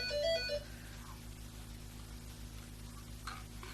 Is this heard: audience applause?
no